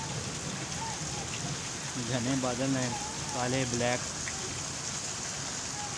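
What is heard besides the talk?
heavy rain falling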